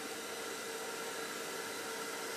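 An air blower runs in a steady, unbroken rush of air while cleaning a computer, fairly quiet and continuous throughout, with no voices.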